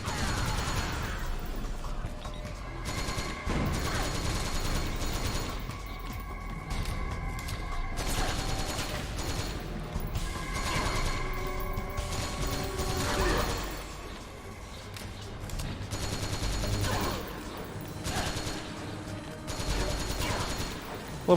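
Gunfire in Metal Gear Solid 4, dense bursts of automatic shots and fusillades that run nearly nonstop, with mechanical clanks and booms, loud and close, under occasional game sound.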